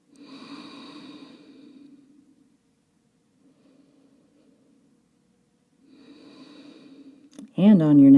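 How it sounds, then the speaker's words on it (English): Slow, audible breaths during a held beginner yoga pose, two soft airy exhales separated by near silence, followed at the end by a voice starting to speak. "Just pausing here for a few breaths."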